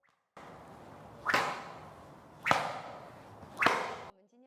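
A whip cracks three times at roughly one-second intervals, each a sharp, loud snap rising out of a soft swishing swing, heard alone without voices.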